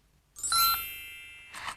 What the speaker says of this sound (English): Magic fairy wand, so dear, please make the fairy phone appear.